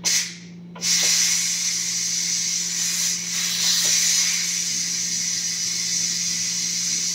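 Steam hisses steadily and loudly from beetroot being boiled, a continuous rushing spray with a brief dip near the start and a low, steady hum underneath.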